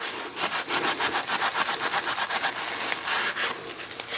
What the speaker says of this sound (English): rub it on, rub it right back off